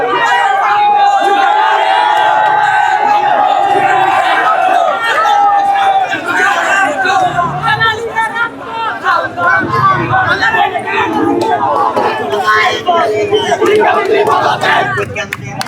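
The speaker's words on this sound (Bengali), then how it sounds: "তাদের দাবি পূরণের ব্যাপারে তারা স্লোগান দিচ্ছে" Students blocking the road in front of the education board chant slogans, a loud crowd of voices shouting in rough unison, with rising calls and general babble throughout.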